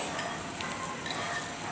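An egg and cheese paratha fries in oil on a very hot tawa, giving a steady, close, continuous sizzle with faint crackles throughout.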